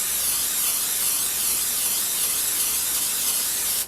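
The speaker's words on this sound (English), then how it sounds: "Now, add a little bit of Pam." Pam cooking spray hisses steadily onto a pan on the stove, one continuous close, loud spray lasting several seconds and cutting off sharply at the end.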